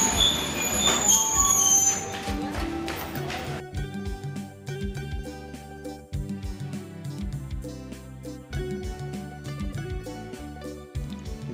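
A train rolls into a small station in the hilly, green countryside of Sri Lanka, brakes squealing high at first, then steady wheel clatter and low rumbling rhythmic thumps as it slows, close and fairly loud.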